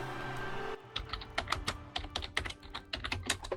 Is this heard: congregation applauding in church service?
no